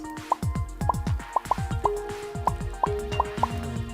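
Close, loud toilet plops and drips in Movie Studio Tycoon fall one after another at a fairly even pace for the whole stretch, with a low sustained tone underneath.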